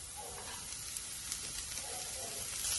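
Chopped spinach sizzles in a hot pan already seasoned with ginger and garlic for a Kerala egg and spinach stir-fry, a soft, steady frying hiss that runs faintly and continuously.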